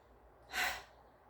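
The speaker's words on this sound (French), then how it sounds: "À l'expiration, on relâche avec un souffle" A single audible exhale in a seated chair yoga session, a soft breathy rush rising and fading over about half a second, releasing the shoulders, close and alone with no talk.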